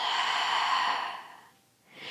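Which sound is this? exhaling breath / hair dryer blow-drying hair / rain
exhaling breath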